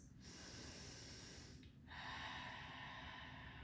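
Slow, deep breaths during a lower-body stretching and roll-out session: a long airy inhale, a short pause, then another full breath, close and breathy with no talking.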